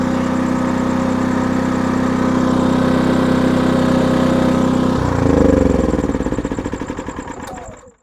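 A Maxpeedingrods MXR6000GT 6000-watt inverter generator engine runs steadily and close by with a droning hum, then shifts pitch and revs around the five-second mark before winding down and fading out at the end.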